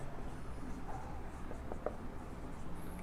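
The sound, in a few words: writing reactions on a board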